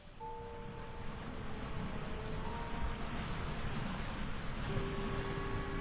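Ocean waves surge and wash steadily around a rocking ship at sea, a continuous broad rush of water with wind noise, some faint tonal creaks or hums drifting through.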